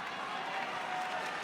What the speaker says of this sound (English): Crowd chanting heavily as Mizutani closing in,